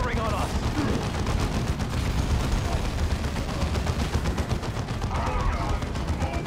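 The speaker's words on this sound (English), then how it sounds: "Orcs are firing on us!" Orcs fire guns in the Dawn of War 2 video game, a dense, continuous rattle of gunfire and explosions. The volleys are loud and sustained throughout, with a voice talking over the battle.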